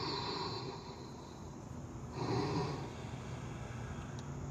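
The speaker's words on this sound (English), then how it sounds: "slow, deep breaths." Slow, deep breathing in yoga child's pose on an outdoor field, faint and airy, with one fuller breath swelling midway over a quiet background hiss.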